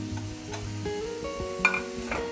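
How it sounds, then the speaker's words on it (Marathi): Peeled new potatoes sautéed in masala in a pan for a dried Bombay duck and potato dish, soft frying hiss under a few spoon scrapes and light metal knocks, close, with a low hum and no talk. "आता हे चांगलं आपण ना परतून घेऊया."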